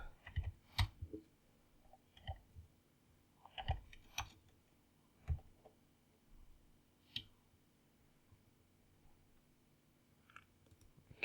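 Someone types on a computer keyboard while editing an Apache config file: sparse, quiet, irregular key clicks scattered across several seconds, close to the mic, with no talking.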